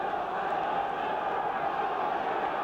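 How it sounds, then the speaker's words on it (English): Football crowd at a Derby County match against QPR, a broad steady roar of many voices rising to lift the home side, continuous and distant-sounding with no clear individual shouts. "Crowd again beginning to try and raise the spirits of their Derby side"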